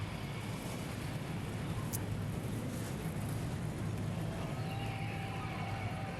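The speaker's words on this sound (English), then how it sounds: "Engines have fired under threatening skies." NASCAR Nationwide Series race car engines idle together at Richmond, a steady, dense low rumble that holds throughout, with wind noise and no talk.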